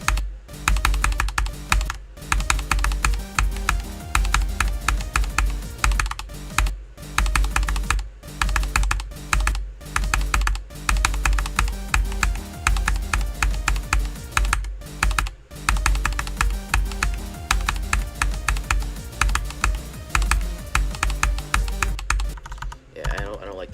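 Rapid keyboard clicking while playing the rhythm game Geometry Dash, a dense, fast run of loud close key taps over game music, broken by a few brief pauses.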